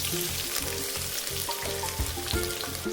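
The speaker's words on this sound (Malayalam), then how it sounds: "ഓയിൽ ചൂടായി വരുന്ന സമയത്ത് ഇതിലേക്ക് മീഡിയം സൈസ് 2 സബോള നീളൻ നുറുക്കിയത് ചേർത്ത് കൊടുക്കാം." Sliced onions sizzle in hot sunflower oil inside a pressure cooker, a steady close frying crackle with low clattering underneath and no voices.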